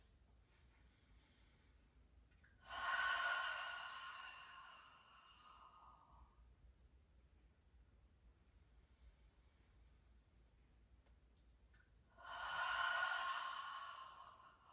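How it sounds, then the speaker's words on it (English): Two slow, breathy exhalations about ten seconds apart during a yoga practice, each a soft whooshing sigh that fades out, over a quiet hiss with no talking. "all we're doing is taking 3 mindful breaths"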